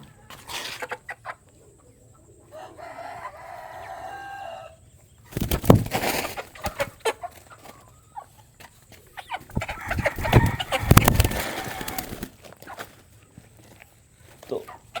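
Broiler chickens released at an open farm, with scattered clucks and fowl calls and rustling footsteps and handling noises in loud bursts, under someone talking on and off.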